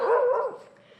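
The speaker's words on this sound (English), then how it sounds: "Little Happy New Year from those dogs there" One short, close bark or yip from a dog, then fading to quiet, heard early on a New Year morning at an outdoor swimming spot.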